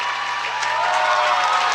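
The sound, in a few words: basketball crowd cheering at Windsor vs Woodstock game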